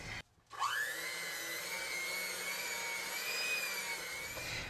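An electric mixer beats eggs into chocolate cake batter with a steady high whirring hum after a brief start-up, running continuously and fairly close.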